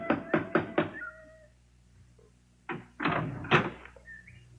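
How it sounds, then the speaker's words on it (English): A big brass knocker on a front door strikes in a quick series of four heavy knocks, then after a pause a few more louder raps sound, close and resonant. "There was a big brass knocker on the front door."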